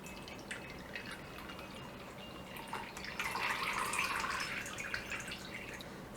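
Brewed tea poured from a lidded pot into a cup, a soft steady trickle that swells toward the end, close and quiet with no talk.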